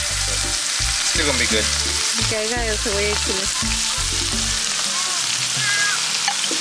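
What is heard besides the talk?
meats and vegetables frying in oil for discada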